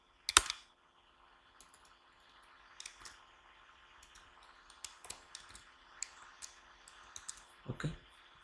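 Someone types code on a computer keyboard in a quiet room, with soft irregular key clicks spread throughout and a sharper clack near the start and end.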